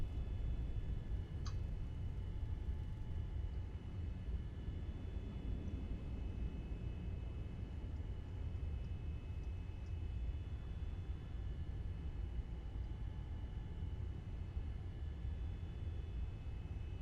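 A Boeing 787 Dreamliner taxiing after landing at Dulles in X-Plane 11, with a steady low engine rumble and faint high whine holding evenly throughout and a single brief click early on.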